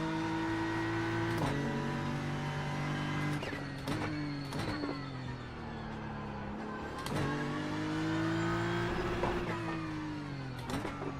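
A GT3 race car engine in iRacing on the Road Atlanta circuit, revving high after a downshift to second gear: a steady harmonic drone that rises and falls with throttle, broken by sharp gear-change blips.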